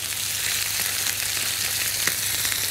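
A pheasant crown sears breast side down against the edge of a hot pan, giving a loud, steady, close sizzle with faint crackles and no voices.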